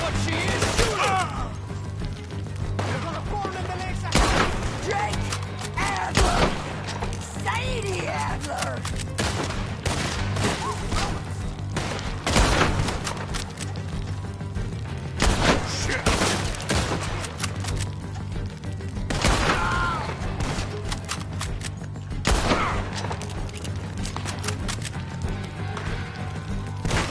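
Gunfire in Red Dead Redemption 2, repeated bursts of shots and volleys spread irregularly over a steady low background, some near and sharp, others more distant, with voices shouting between them.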